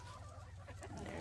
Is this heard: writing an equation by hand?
no